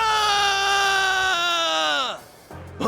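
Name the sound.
scream in the video game Like a Dragon: Infinite Wealth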